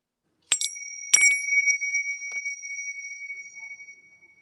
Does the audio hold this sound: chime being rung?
yes